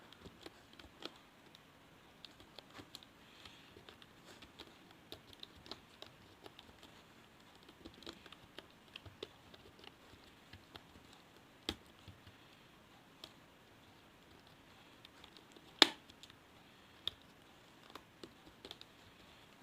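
Fingers tapping out a short word on a computer keyboard during an English typing lesson, producing soft irregular clicks with occasional sharper key strikes, close and quiet against a near-silent room.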